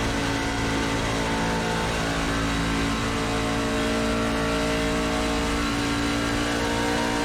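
Steady, loud drone of a NASCAR stock car engine at Atlanta in iRacing, holding a high, even pitch throughout with no talk over it.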